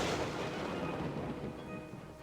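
A lightning spell cast in the game Betrayal in Antara, a broad crackling boom that rolls and fades over about two seconds, loud and close.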